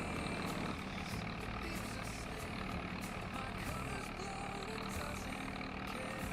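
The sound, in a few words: Massey Ferguson tractor engine running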